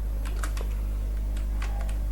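Light, irregular clicks of typing on a computer keyboard, a few quick keystrokes in small bursts over a steady low hum.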